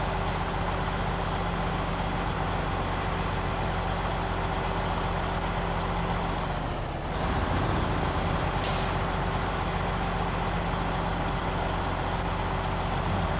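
A Mack truck in SnowRunner runs steadily in high gear with a loud, constant engine drone and tonal hum, briefly dipping mid-way before resuming, followed by a short hissing burst.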